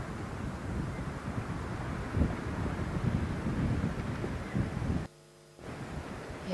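A gust of wind on a golf course at a ladies' professional tournament in Kenya, a loud, steady rushing roar that buffets the microphone for several seconds before briefly cutting out.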